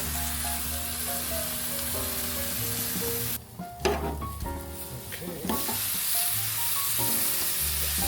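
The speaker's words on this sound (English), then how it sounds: "Now, this needs to cook 4 to 5 minutes on each side." London broil beef sizzling on a hot grill, a steady loud crackle and hiss throughout, briefly interrupted by a few thumps and shifting noises midway before the even sizzle resumes.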